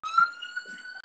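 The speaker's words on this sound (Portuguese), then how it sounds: "Eita, uma ambulância." An ambulance siren sounds as a steady, fairly faint tone that holds throughout.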